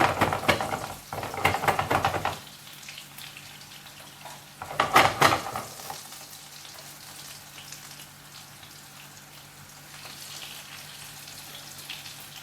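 Food warms in butter in a pan, seasoned with salt and pepper, with two louder bursts of sizzling and scraping pan clatter, then a soft, steady low sizzle that continues quietly to the end.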